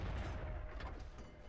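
A single artillery shot in the tank game World of Tanks, a loud low boom that opens the clip and then rolls off into a dull rumbling tail, heard alone without any talk.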